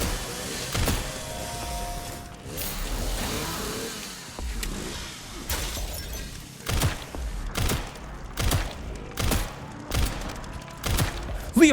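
Leon fires repeated gunshots in Resident Evil Requiem, a series of loud, sharp blasts spaced about a second apart, with engine rumble behind them and no talking.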